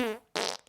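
A single short fart, a low buzzing tone that fades out, followed by a brief hissy breathy burst, close and moderately loud.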